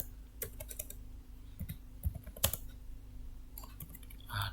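Quiet computer keyboard typing as code for an error message is entered, irregular bursts of close, crisp keystrokes with short pauses between clusters, no talking.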